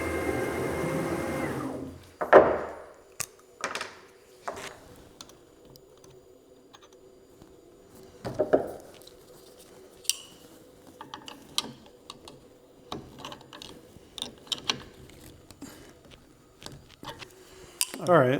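A 1/4-inch downcut spiral end mill is fitted into a CNC router's collet, giving a series of sharp metallic clicks and clinks spread irregularly through the clip, with a loud burst of handling noise at the start and a few brief spoken sounds.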